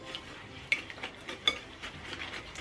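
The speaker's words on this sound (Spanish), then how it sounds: "Lo volvemos a mezclar muy bien." A spoon stirs brownie batter with eggs and vanilla in a bowl, soft repeated scraping strokes with a couple of light clinks against the side, close and quiet.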